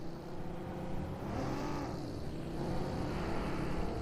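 A car in PUBG Mobile drives in a steady, loud engine drone that swells slightly as it accelerates, holding continuously for several seconds with no voices over it.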